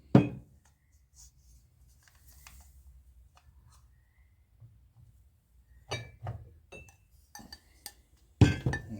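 Tasting glasses being pulled out one at a time, giving a few light glassy clinks and knocks spread across long quiet gaps, close by.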